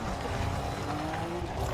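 Car driving in Fortnite, a dense engine roar with rising whining tones and tire noise, steady and close throughout a brief moment.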